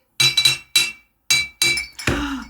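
Glass recycling containers clink and knock together in a series of five or six sharp, bright, close impacts with short silent gaps between them, the last hit landing heavier and more resonant.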